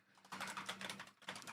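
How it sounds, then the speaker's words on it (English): Quick tapping on a computer keyboard, a soft, close run of keystrokes in two short bursts with a brief pause between them. "I'm typing in ChatGPT."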